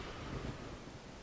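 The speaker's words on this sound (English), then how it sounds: "Do like a good storm." Thunderstorm in the video game Dawn of Man, a low rumble of thunder mixed with rain and wind, heard alone.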